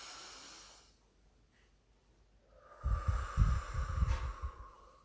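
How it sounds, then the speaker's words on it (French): Slow, deep breathing begins after a quiet pause. Audible, rough inhales and exhales come close to the microphone, with no talking. "Prenez des grandes inspirations"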